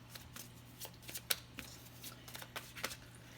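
Star Dragons oracle cards being shuffled nearby, a quick run of soft flicking riffles and slaps, quiet and without talk.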